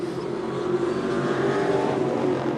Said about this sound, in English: Green flag coming out now for the New England race trucks.